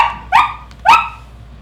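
Wishbone the dog gives two sharp, loud barks about half a second apart, close by with little else around them.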